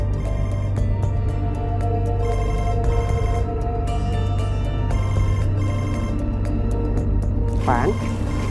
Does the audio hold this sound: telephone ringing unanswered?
yes